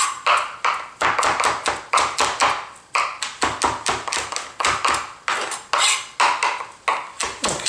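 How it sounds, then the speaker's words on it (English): A knife finely chopping garlic with fennel seeds on a board, rapid rhythmic taps in quick runs with short breaks, close and crisp, with no talk over it. "I'm going to fine chop the garlic with the fennel seeds"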